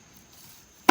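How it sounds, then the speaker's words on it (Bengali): Garlic crushed on a stone grinding slab makes one sharp, close thud after near silence. "এবার রসুন ছেঁচা হচ্ছে"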